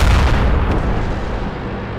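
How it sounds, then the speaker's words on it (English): A heavy tank round, fired at a T29 in a tank video game, strikes and bounces off the turret's front armor: a loud, sustained booming roar filling the clip with a brief crack early on. "it bounces his huge round off the front of my turret"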